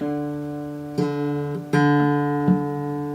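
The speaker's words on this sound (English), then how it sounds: "So on the piano it should sound like" A sustained piano note D with rich harmonics, re-struck several times at irregular intervals, each attack briefly brightening before the steady note continues.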